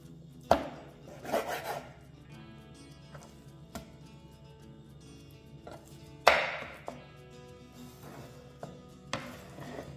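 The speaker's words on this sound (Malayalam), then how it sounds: "ഒരു ഫുൾ ചിക്കൻ മേടിച്ചിട്ട് ഇതുപോലെ വലിയ പീസാക്കി മുറിച്ച്" Whole chicken being cut into large pieces on a board, with a few sharp chopping knocks and scraping strokes spaced through fairly quiet kitchen surroundings, no talking.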